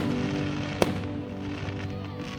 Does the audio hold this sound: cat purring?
no